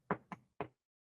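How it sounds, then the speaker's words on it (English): Three knocks on a door, close and fairly sharp, the first two quick together and the third after a short pause, followed by silence. "And Mika and Joe now are knocking on the door."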